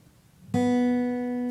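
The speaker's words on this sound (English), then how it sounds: "That's right, the second smallest string." Single pluck of a guitar's B string (string 2), a bright sharp attack after a brief quiet moment, then a steady ringing tone that decays gently, heard alone.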